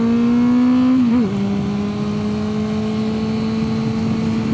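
A motorbike in Sydney city traffic holds a loud, close, steady engine drone whose pitch dips briefly as it shifts, then carries on evenly over a constant traffic hum.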